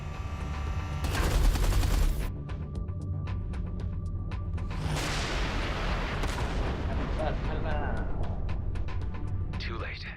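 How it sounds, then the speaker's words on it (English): Heavy artillery fire in the space game Everspace 2, a loud booming barrage with rapid repeated blasts and rumbling impacts, layered with game music and voices talking. "Watch out. The artillery."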